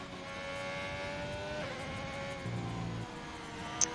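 An Alfa Romeo Formula 1 car in a racing video game lapping the Japanese Grand Prix circuit, its high engine note whining steadily and shifting pitch through gear changes, with no talking.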